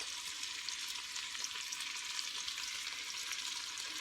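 Onion sizzling in grease and butter in a pan, a steady, fine crackling hiss that holds evenly from start to finish with no voices.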